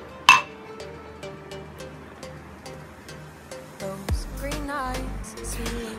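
Glasses of mango milkshake clink together in a toast, one sharp bright chink at the start followed by softer clinks and handling of cups, with a voice talking briefly near the end.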